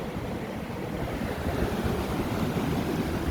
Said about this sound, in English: Here comes the ocean.